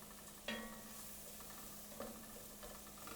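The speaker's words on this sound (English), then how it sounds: "saute it a little bit so all the grains get a nice butter and oil" Farro grains toasting in a pan of butter and oil, giving a faint, steady sizzle with a few soft scraping stirs near the start and middle.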